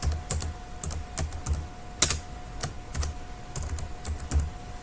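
Steady typing on a computer keyboard while a full name is entered, with irregular runs of close key clicks and one sharper tap, no voices over it.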